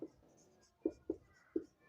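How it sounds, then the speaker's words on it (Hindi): Pen strokes write out a maths solution on paper, a few distinct scratchy marks and taps spaced irregularly, close and quiet with no talking. "तो चलिए यहाँ पे हल लिखते हैं"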